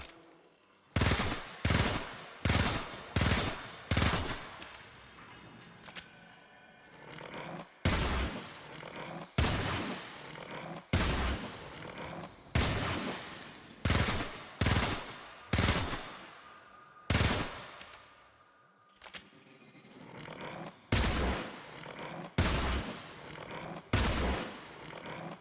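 Rakta Ballistica crossbow pistol from the game Warframe loosing heavy bolts in groups of rapid, punchy shots separated by brief pauses and reload sounds, loud and near.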